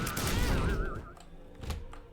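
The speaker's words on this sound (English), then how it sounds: "Probably hit the door with an explosion." In The Binding of Isaac: Repentance, an explosion hits a door with a loud, dense burst of rapid crackling blasts. A warbling electronic tone runs through the first second, and fainter pops follow.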